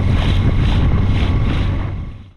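Dinghy ride across choppy tropical water off Crooked and Acklins Islands, an outboard motor's steady drone with wind and splashing chop, loud and close before fading out.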